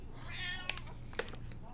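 A house cat meows softly nearby, a short rising call followed by a couple of faint sharp clicks and light rustling, over quiet room noise.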